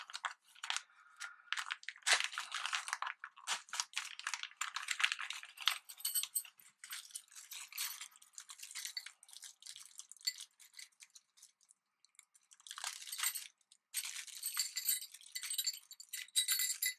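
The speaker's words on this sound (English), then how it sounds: "let me go ahead and open up this package" Plastic packaging for RC4WD Panhard parts for a custom Axial SCX10 crawler being handled and opened close up: a busy run of crinkling, rustling and tearing with small clicks, a short pause near the end, then more crinkling.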